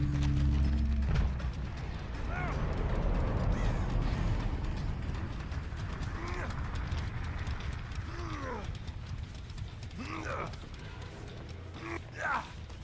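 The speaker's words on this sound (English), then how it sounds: "The crows are going off again, so I already know that they're here." Crows caw in the Dead by Daylight game, several rough calls scattered over a constant mechanical, ratcheting background, with a voice speaking over part of it.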